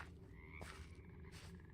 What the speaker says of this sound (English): I hear a frog.